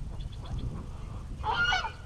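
Muscovy ducks squabble, with hoarse honking calls and a sudden burst of louder squawking over a steady outdoor rumble, fairly close and with no talk.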